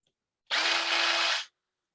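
A brass pen tube set in a wooden blank is trimmed by a powered trimming tool, one short high whirring burst of about a second that starts and stops abruptly, close and alone.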